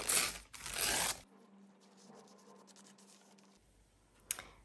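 Paper tears by hand to form a ragged edge on a junk journal pocket, with two loud rips at the start, a quiet stretch, and a brief sharp tear near the end.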